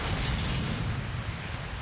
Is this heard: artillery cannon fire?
yes